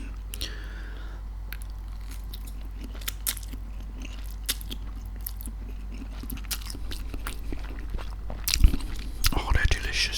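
Close, crisp chewing and biting of Maggi instant noodles, with wet crunches and squishes in an uneven rhythm, louder bites near the end, over a faint low hum.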